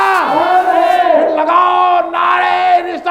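A large crowd at a Milad un Nabi jalsa in Bahadurpura roars a religious slogan in unison, several loud drawn-out chanted calls of many voices rising and falling in succession.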